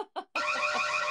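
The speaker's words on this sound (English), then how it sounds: "I need like an alarm button." Alarm sound effect: two brief tones, then a loud continuous buzzing alarm that holds steady to the end.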